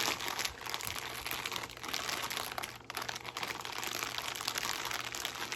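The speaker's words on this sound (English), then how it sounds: "So they say to take your bag and to roll it kind of like this." A plastic fish bag, top cut off, being rolled up by hand while setting up a 30 gallon aquarium, giving continuous close, loud crinkling and crackling with no pauses.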